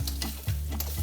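Bacon fries in a pan with a close, crackling sizzle, interrupted by a few scraping stirs and utensil clinks.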